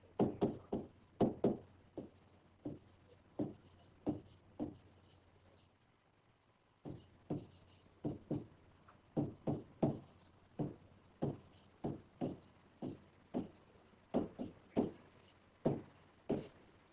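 Marker or chalk writing on a classroom board during a maths lesson, a long run of quiet, dry, regular taps and short scratchy strokes, pausing briefly partway through and then resuming in a steady rhythm, with no voices.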